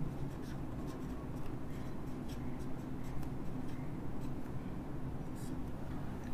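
A teacher writes on a board during an organic chemistry lecture, producing steady, close scratching and tapping strokes that run continuously with no voice.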